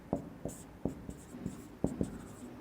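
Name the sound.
writing with chalk or pen while explaining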